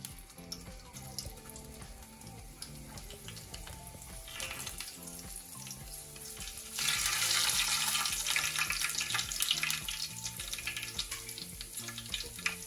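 Natto fritters fry in hot oil in a pot for a Jamaican breakfast, with steady close sizzling that swells sharply louder partway through as more batter hits the oil.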